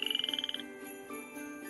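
A frog croaks in a quick, regular burst of about a dozen pulses at close range, then gives way to a soft tonal background.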